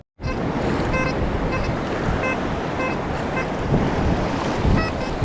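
Ocean surf washes steadily over a beach during metal detecting, a dense continuous roar of breaking waves and wind rush, close and loud, with a brief swell near the end.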